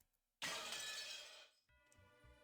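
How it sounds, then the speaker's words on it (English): Glass shatters in a video game sound effect marking a demon's appearance: a sudden loud crash of breaking glass bursts from near silence, sustains a bright spray of shards, then gives way to a fainter ringing, tinkling tail. "And with a sound like glass breaking, a new demon could be seen."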